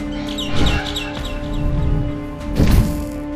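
Bird chirps in the Garden of Banban 6 video game: a few short, bright tweets repeat in quick bursts over a steady droning game ambience, with louder thumps around them.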